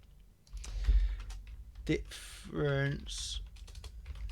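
Keys clatter on a computer keyboard in short bursts as a note is typed, close and fairly quiet, with someone talking over parts of it.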